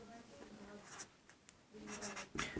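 Pen or chalk writing a linear equation by hand in a Class 10 maths lesson: faint scratchy strokes in short bursts, quiet and close, with a teacher's voice speaking intermittently.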